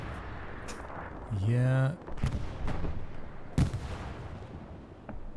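Anti-tank gun fire in the video game Hell Let Loose, on the Utah map during a 49 vs 49 competitive match: a loud, sustained burst with a falling ringing tail, followed by a few sharper distant shots, while a voice briefly speaks.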